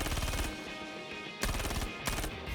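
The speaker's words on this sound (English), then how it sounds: "No fire mode here, just glorious full auto at 110 rounds per minute." Full-auto bursts from a Gemini C54 submachine gun in Star Citizen, a dense rapid rattle of shots in three loud bursts separated by brief gaps, close and unbroken by talk.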